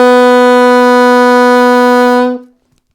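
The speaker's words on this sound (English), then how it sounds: "So G sharp, A flat sounds like this." An alto saxophone sustains a single steady G sharp (A flat) for about two and a half seconds, loud and close with a full, bright tone that then stops cleanly, leaving silence at the end.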